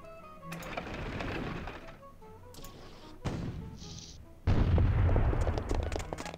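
Artillery fire in the strategy video game Imperialismus 2: a couple of muffled booms with short rumbling tails, then a heavier, sustained blast near the end, with no talk over it.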